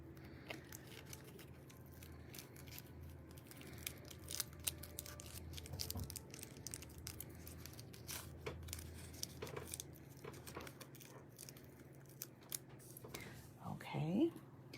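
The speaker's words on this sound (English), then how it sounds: "we're just going to peel it off of there. And then we'll kind of punch it out a little bit carefully" Paper die-cut gate piece with an adhesive backing, peeled off its sheet and carefully punched out during card making: soft, close tearing and crinkling rustles with light scratchy handling, faint throughout, with a slightly louder burst of crinkling near the end.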